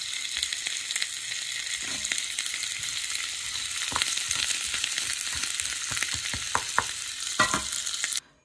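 Roasted chana dal (putnala pappu) sizzles steadily while being lightly sautéed in a pan, with a continuous hissing fry and occasional scrapes and taps of stirring, close and moderately loud.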